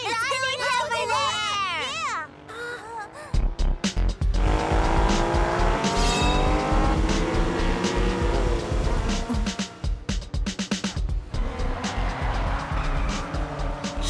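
A car in a kids' cartoon races at high speed and drifts around scattered obstacles, its engine roaring loudly and tires squealing through most of the stretch, with voices and music layered over it.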